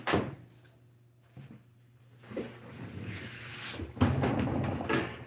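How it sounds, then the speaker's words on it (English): A door swings shut indoors in a home art workspace, with a soft opening knock, shuffling movement, then a fuller thud and rattle as it closes, heard close and moderately loud. "Let me close that door."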